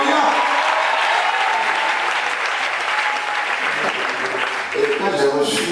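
A church congregation applauds and cheers for Jesus Christ, with sustained dense clapping and crowd noise throughout and raised voices mixed in.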